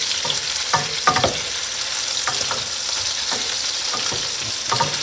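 Swedish meatballs fry in a pan with a constant hiss, broken by soft knocks and scrapes as two wooden utensils turn them to brown every side, close and fairly loud with no talking.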